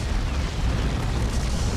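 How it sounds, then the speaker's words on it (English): An orbital bombardment strike explodes in Dawn of War 2 as a sustained deep, rumbling blast with dense crackling debris filling the short moment, loud and continuous without talk. "Orbital hit."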